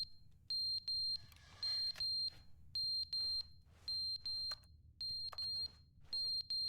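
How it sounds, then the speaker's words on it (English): A fire alarm in the video game The Stanley Parable sounds in repeated pairs of shrill, piercing electronic beeps, evenly spaced and loud, with nothing else heard. "It's like a fire alarm?"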